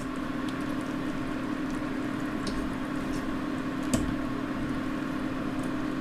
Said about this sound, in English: I think I'll just simmer this for 10 or 15 minutes